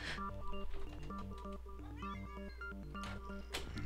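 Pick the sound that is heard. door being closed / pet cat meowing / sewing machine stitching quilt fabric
pet cat meowing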